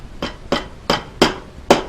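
A rusty hammer strikes five times at a steady, fairly quick pace during sewing machine table assembly. Each blow is close and sharp with a short ringing tail, and no one speaks.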